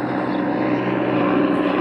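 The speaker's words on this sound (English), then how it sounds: "Yeah, I know, helicopters." Steady whirring rotor-and-engine drone of a helicopter passing overhead, continuous and fairly loud with no pauses, holding even throughout.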